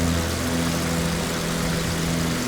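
A Rockwell Aero Commander 500s twin-propeller plane in Microsoft Flight Simulator runs with a steady, loud engine drone and a constant low hum from its propellers, unbroken and alone.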